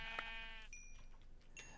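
A sheep in the Minecraft video game bleats in short quavering calls, two or three clear bleats close by over a faint steady game background, with no one speaking.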